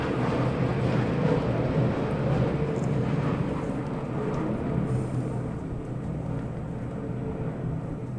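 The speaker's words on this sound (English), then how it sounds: "there's a lot of planes today" Steady broad low rumble of airplanes passing overhead, continuous and fairly loud throughout with no talking.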